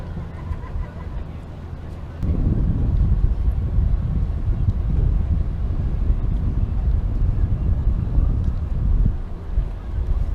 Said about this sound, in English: the wind's coming from that direction also